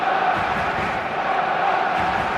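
Dense, steady roar of a packed stadium crowd cheering before kickoff in the football game eFootball 2026, loud and continuous with no break.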